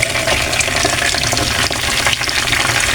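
Chicken pieces fry in hot oil, producing a loud, dense, continuous sizzle and crackle heard up close, with no voices.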